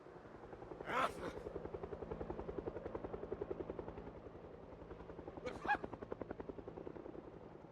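A helicopter in the video game Project Zomboid flies overhead, its rapid rotor chop pulsing steadily and loudly throughout, with two brief sharp bursts over the drone.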